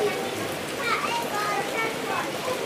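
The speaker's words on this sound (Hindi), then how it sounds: "ये बारिश बरस रहा है" Steady rain pours at an outdoor Milad-un-Nabi gathering in Ranapara, a continuous dense hiss filling the scene, with faint indistinct voices blending into the wash.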